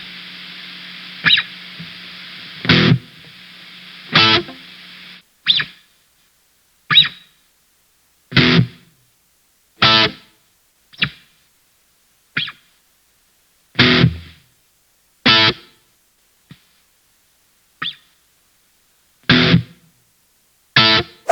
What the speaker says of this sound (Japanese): 歪ました時にノイズゲートとかつけてあげると弾きやすくなります。